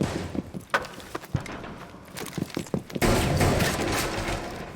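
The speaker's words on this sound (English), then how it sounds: "Downed with that shotgun." Shotgun fire in the video game Rainbow Six Siege, with several sharp, punchy blasts and thuds at irregular intervals, then a denser rush of noise, loud and close.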